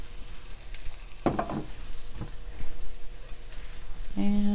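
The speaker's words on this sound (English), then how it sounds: "You want to cook the soy sauce for about 10 to 20 seconds" Soy sauce sizzles steadily in a hot pan while a soybean chilli cooks, with a few stirring scrapes through the hiss and a brief tone near the end.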